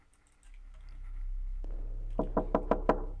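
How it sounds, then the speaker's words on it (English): Creepy knocking in a horror video game, a series of about five loud, hollow knocks in an even rhythm over a low droning ambience that swells up beforehand. "Oh, some more creepy knocking noises."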